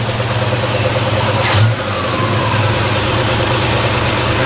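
A 1960s Ford Galaxie V8 idling smoothly after a vacuum canister repair: a steady, loud low rumble with an even throb, one brief higher blip midway, no voices.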